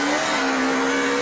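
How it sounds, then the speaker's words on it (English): An S-WRC rally car accelerates hard on an ice stage with tungsten-studded tyres, a loud, close engine note revving steadily upward in one brief unbroken burst. "The next stage of Sagan was the fastest of the event, and the S-WRC came blasting through"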